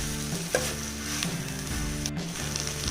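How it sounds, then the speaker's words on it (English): Chicken seekh kabab pieces fry on a low-medium flame in a pan with a steady close sizzle, occasional stirring taps and a faint hum underneath. "I'm then going to fry this for about 2 minutes on low-medium flame."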